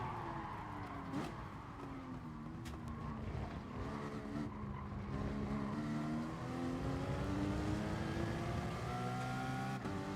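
In Gran Turismo Sport, a race car brakes hard and its tires squeal and skid for several seconds over a loud engine whose pitch falls and rises, with no talking.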